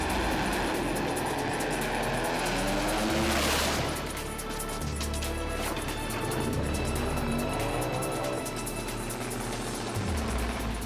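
Phil Lamartine's Fuchs machine in a monstrous race crash at Willowbank in 2007: a loud, sustained mechanical roar with a sharp broadband smash near the middle, then continued rumbling and scraping noise.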